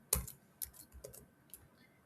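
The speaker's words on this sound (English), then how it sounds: "I'm having some issues with regards to my um, keyboard because I'm not used to this keyboard" Several quick keystrokes on a computer keyboard, close and faint, tapped in an uneven burst of clicks.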